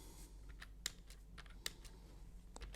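Light typing on a computer keyboard, with scattered key taps and a couple of sharper clicks, quiet and close, with no talking.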